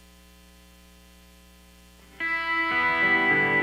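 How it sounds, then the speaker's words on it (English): An electric guitar with light distortion and chorus playing a part from a song: a steady amp hum, then a loud chord struck and left ringing, followed by more sustained notes. "So let me turn on a chorus here"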